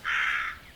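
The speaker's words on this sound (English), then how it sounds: "Oh, those are the calling birds." A single crow caw, a harsh, drawn-out call lasting under a second, fairly close and alone.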